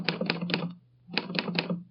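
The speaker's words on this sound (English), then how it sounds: "I'll type the name out for you now on my Underwood typewriter" Keys strike on an Underwood typewriter in two bursts of three crisp, close clacks each, separated by a short silent pause.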